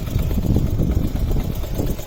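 A 2007 Honda MD90 motorcycle engine runs at a steady idle, a low, even putter close by that holds constant without revving.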